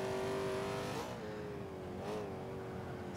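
Buick GNX in Forza 5 accelerates hard, its engine droning and rising in pitch through gear shifts, loud and close with no talking.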